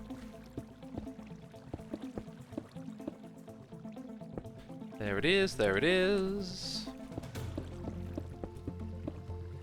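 Minecraft water from the Create Together modpack keeps trickling and dripping in the background, steady and moderately quiet, while someone talks briefly partway through.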